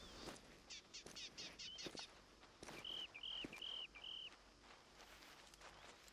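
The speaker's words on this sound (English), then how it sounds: "Yep, definitely hearing footsteps now." Faint footsteps crunch through the hunting game Hunter Call of the Wild, soft and irregular, with high bird chirps trilling over a quiet outdoor ambience.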